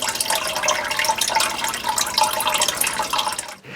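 Water gushing from a newly powered well pump at a cabin, a steady splashing, bubbling flow heard up close that cuts off abruptly at the end.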